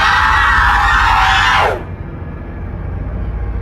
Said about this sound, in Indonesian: Penanggalan berteriak keras.